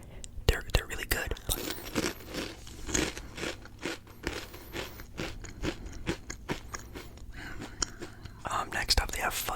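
Close, crisp crunching and chewing of snack chips in a quiet room, with irregular bursts of bites and mouth sounds across the clip alongside soft whispering.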